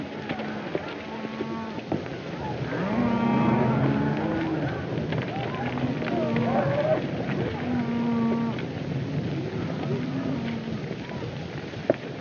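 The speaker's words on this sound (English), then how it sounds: "Hey, Joe, get those cattle watered down right away." Cattle on a ranch in an old Western film low several times, drawn-out bellowing moos at moderate distance, mixed with lo-fi background noise and some talking.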